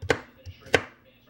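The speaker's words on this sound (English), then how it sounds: "We got it all chopped up nice." Knife chopping ingredients for banana chocolate chia pudding with cacao on a cutting board: two sharp, close chops spaced well apart, with faint softer taps between them.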